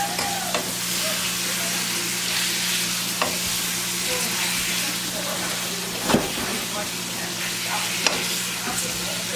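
Jamaican-style curry chicken and shrimp sizzles steadily in a hot pot while a spoon stirs it, with occasional scrapes and clanks over a constant frying hiss.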